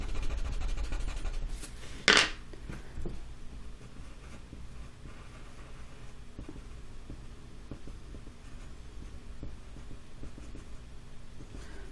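A pen scratches across paper as a person is sketched into a maze drawing, a soft continuous rubbing close by with one sharper louder stroke early on, no talk.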